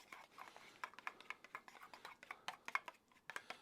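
A spoon clicks and scrapes against a bowl while mayonnaise and Ballymaloe pepper relish are stirred together, giving a quick, irregular run of light taps, fairly quiet and close.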